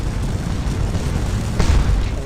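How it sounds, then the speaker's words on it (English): Cannon fire from the Napoleonic battle game Scourge of War: Waterloo, a steady low rumbling barrage of distant booms with a louder burst near the end, no voices. "the cannons farther down their ranks have continued firing"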